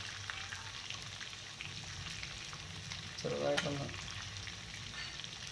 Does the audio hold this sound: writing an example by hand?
no